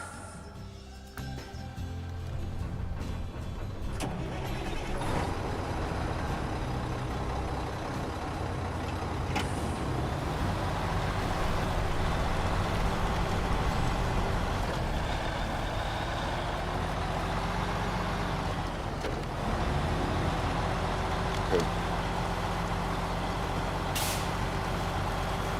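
In the video game Snowrunner, a Mag Defense truck's heavy engine drones steadily and loudly throughout, with occasional hisses and mechanical clunks over the rumble and no voices.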